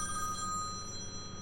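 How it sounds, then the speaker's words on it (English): An in-game telephone rings in Farming Simulator 17, a steady electronic trill with bright sustained tones that holds at moderate volume for the whole moment, with no talking over it. "Oh, and that seems to be my phone ringing there"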